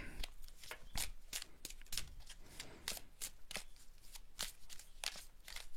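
Oracle cards being cut and shuffled by hand, dense rapid papery flicks and slaps in a steady rhythm, close and fairly quiet, with no talking.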